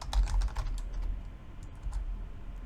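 Rapid clatter of computer keyboard typing while entering Linux terminal commands, a quick burst of close keystrokes that thins into sparser taps, with no speech.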